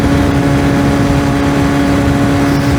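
A 125cc motorcycle fitted with a big rear sprocket holds a loud, steady high-RPM engine whine and drone while riding along twisty roads, with no change in pitch.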